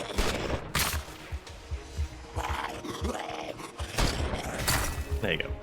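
Gunshots ring out in the shooter Every Day We Fight as several loud, sharp bangs amid game noise and roars, with a voice talking between them.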